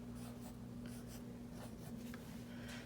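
Crayon rubbing back and forth on plain white paper while coloring in a panda drawing, a soft, steady scratchy scribble over a low constant hum.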